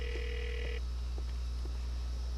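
In Grand Theft Auto IV, a phone gives a short electronic ring tone at the start that then cuts off, leaving faint ticks over a steady low hum.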